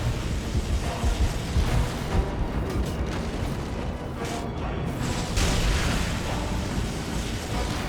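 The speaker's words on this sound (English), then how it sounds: "He's calling down the lightning." A lightning strike's thunder in the Lord of the Rings: War in the North video game, a heavy rolling rumble with crackling bursts that stays loud and dense throughout, with no voices.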